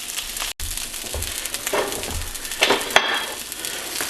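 A sunny side up egg and hash frying in a pan, a steady crackling sizzle with occasional scrapes and clinks of a utensil against the pan, close and fairly loud.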